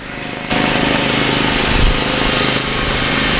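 A John Deere zero-turn lawn mower rolls by in a parade, its engine a loud, steady, coarse drone that begins abruptly and holds throughout, with a brief thump near the middle.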